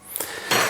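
Peas being stirred into soup in a cooking pot, a brief soft stir with a couple of faint clinks of utensil against the pot and a short wet swish at the end.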